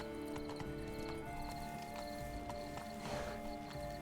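Horse hooves clip-clop in a steady galloping rhythm as a mount is ridden in The Witcher 3, close and continuous over game music, with a brief whinny.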